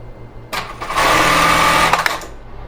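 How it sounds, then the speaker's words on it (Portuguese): A sewing machine runs for about a second and a half, stitching a bra strap with the same stitch used before. The stitching is loud and steady, with short quiet stretches before and after the burst. "Então vou usar esse mesmo ponto aqui para costurar a minha alça"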